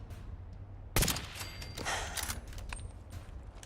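Fallout 4 gameplay with turret gunfire: one sharp burst, then a rattle of mechanical clatter and scattered shots, set against a low, steady background hum.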